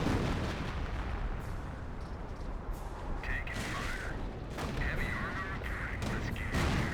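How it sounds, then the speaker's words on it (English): Dense gunfire and artillery from a Company of Heroes battle against Panther tanks and an M10, a continuous wash of shots with sharper bursts layered over one another. "Decent amount of fire coming out on that M10."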